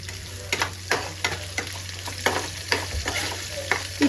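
Onions sizzle steadily in a hot pan while a spoon or spatula scrapes and stirs in repeated strokes. A low hum runs underneath, and no one speaks.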